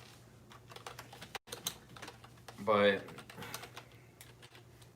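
Rapid keyboard typing clatters steadily through the clip at close range, with brief pauses, while a person talks over it.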